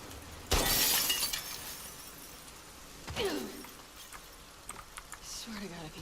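Glass shatters in The Last of Us Part II, one loud sharp crash followed by a quieter second break and scattered tinkling shards, close and alone with no talk.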